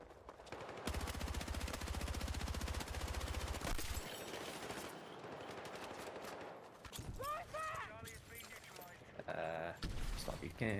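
Rapid automatic gunfire from a first-person shooter video game rattles steadily for several seconds, then gives way to scattered game effects and chirping interface sounds while the action continues.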